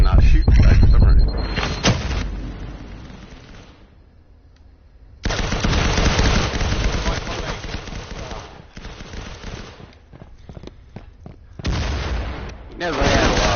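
Gunfire rattles in the shooter video game Firewall Zero Hour: bursts of close, loud automatic shots with a lull in the middle, while a voice talks over the action.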